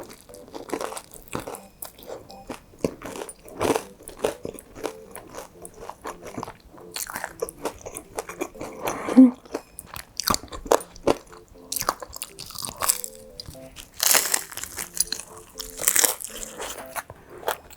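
Crisp bites and steady crunchy chewing of Bburinkle fried chicken sound close to the microphone, with irregular bursts of crackling crunch continuing throughout.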